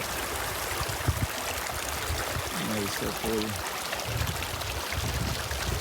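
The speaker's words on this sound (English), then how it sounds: "there's a lot of water coming down here" Mountain stream water rushing down toward Palisade Lakes on the John Muir Trail near Mather Pass, a steady broadband flow with a brief voice speaking over it partway through.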